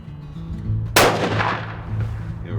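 A single rifle shot fired with Hornady bullets on a Southern Shore moose hunt: one sharp, loud crack outdoors followed by a long rolling echo that fades away.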